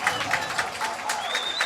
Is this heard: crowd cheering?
yes